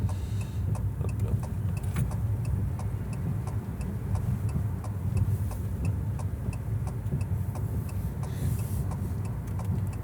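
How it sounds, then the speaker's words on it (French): Steady interior road rumble from an electric car accelerating, a constant low drone with faint rhythmic ticking over the top, and no voices. "là c'était un exemple de quand on veut accélérer, on peut accélérer"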